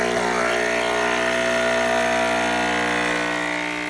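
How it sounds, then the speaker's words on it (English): A Nespresso espresso machine brewing a single shot, its pump giving a loud, steady buzzing hum with a constant tone throughout. "I'm just going to go ahead and press the single shot button now on top of the machine and let it brew"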